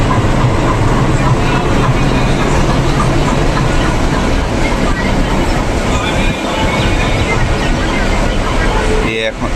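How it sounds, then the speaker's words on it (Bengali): A diesel locomotive standing beside platform 6 at Sealdah station, with a loud, steady engine rumble and dense station noise running throughout, and a brief clatter near the end. "আর তার পাশেই দাঁড়িয়ে রয়েছে ডিজেল লোকোমোটিভ।"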